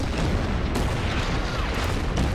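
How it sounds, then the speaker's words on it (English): Artillery shells slam into a Churchill tank during a turn of the Order of Battle wargame, a dense, sustained booming rumble filling the whole moment, loud and continuous without a clear break. "I think the artillery will hit the Churchill here."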